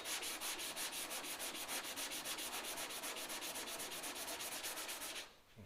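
Steady back-and-forth sanding of body filler on a Ford XY sedan's panel, a continuous rhythmic rasp that is loud and close for about five seconds, then stops abruptly.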